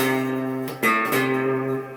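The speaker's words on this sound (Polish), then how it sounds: "Na trzecim progu struna A to jest dźwięk C." A guitar's A string fretted at the third fret rings out a C note: a clear, sustained pitched tone with a fresh pluck partway through. It is close and alone.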